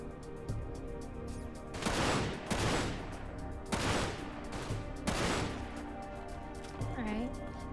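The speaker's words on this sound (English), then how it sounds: "This gun's pretty sick." Bursts of gunfire from a gun in the video game Dirge of Cerberus, with loud volleys at steady intervals over a droning game soundtrack.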